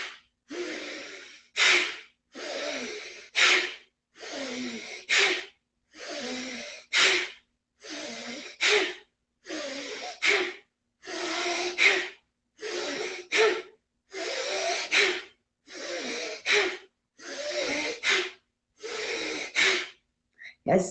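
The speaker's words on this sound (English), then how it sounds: "So bellows breath. Strong inhale. Strong inhale." Bellows breathing: a long series of forceful, evenly spaced inhales and exhales, each a sharp close rush of air, repeating in a steady rhythm for about twenty seconds with no talking.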